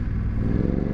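BMW F900 GS adventure motorcycle running steadily, a close, continuous low engine drone with a faint mechanical clatter, no speech.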